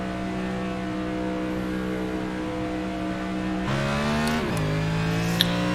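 Race cars accelerate at the green flag, a loud, sustained engine drone from several cars that climbs in pitch midway as the pack pulls away together.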